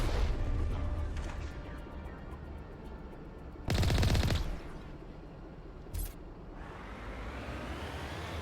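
Tank weapon fire in the video game Mass Effect Legendary Edition: a loud burst of gunfire in the middle, then a short sharp blast, over a steady rumbling engine and distant combat noise.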